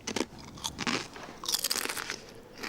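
Close-up crunching of deep-fried, artificially flavoured crisps, with repeated sharp bites and chewing in an uneven rhythm, loud and clear with no speech.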